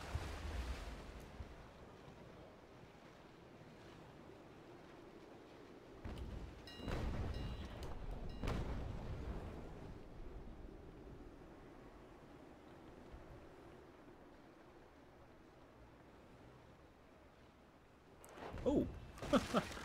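Ocean waves in the Naval Action sailing game wash in a low, steady rumble with wind-like hiss, swelling into a couple of louder surges midway and again near the end.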